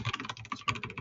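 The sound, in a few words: typing on a computer keyboard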